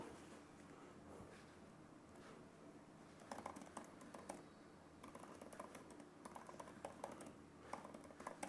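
Typing on a computer keyboard, faint and close, with rapid irregular clicks of keys coming in bursts over a quiet room hum and growing busier partway through.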